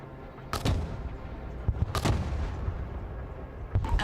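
Artillery fire in the video game Broken Arrow, with booming shots landing at intervals over a constant low rumble, each followed by a rolling echo.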